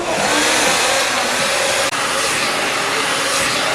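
FHI Platform hair blow dryer without a handle running steadily at close range, a loud continuous broadband whoosh and whir with one brief dip partway through, no talking over it.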